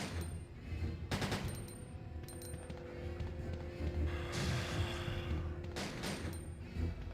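Rapid gunfire from a character shooting in the Resident Evil 2 remake, dense bursts of shots and automatic fire rattling almost continuously over game background sound, with louder volleys near the start and toward the end.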